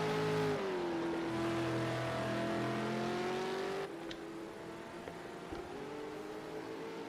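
A V8 Supercar engine in a racing video game at Watkins Glen holds a loud, steady high drone, then drops sharply in pitch and level midway as it shifts or lifts, continuing lower to the end.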